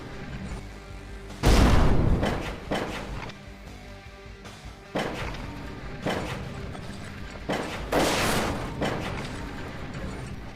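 Explosions in Bridge Constructor: The Walking Dead: a series of heavy booms, one big blast followed by several more bursts spaced a few seconds apart, loud and alone with no talking.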